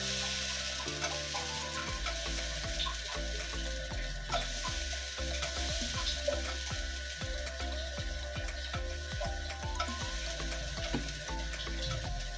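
Chita roti cooks in a wok with a steady, close sizzle and hiss, while quiet scraping and tapping recur throughout.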